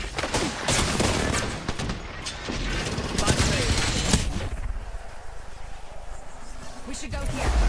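Rapid gunfire in the Apex Legends battle royale game, dense overlapping bursts of shots and impacts crackling loudly throughout, with a voice speaking over the combat.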